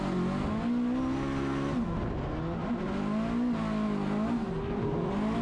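Drift car sliding through a corner with the handbrake pulled, loud sustained engine roar with wavering pitch and tire noise, close and continuous for several seconds.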